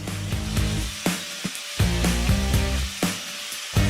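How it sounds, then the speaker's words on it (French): An angle grinder fitted with a convex spiked disc sands a surface smoothly, a steady loud whirring broken by repeated sharp contact bursts and brief dips as the disc is lifted and pressed back. "Léger, des mouvements doux et un ponçage parfaitement lisse."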